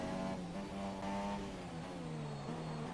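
A Formula 1 car engine in the racing game F1 2017, at the Hungary circuit with DRS open on a qualifying lap. It whines high and steady, and its pitch climbs through the gears with brief dips at each upshift.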